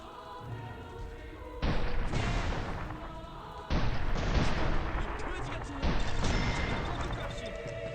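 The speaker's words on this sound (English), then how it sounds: "They got a howitzer." Howitzer artillery fires in the video game Mercenaries: three loud, heavy booms, evenly spaced about two seconds apart, each with a long rumbling tail over a constant background of game noise.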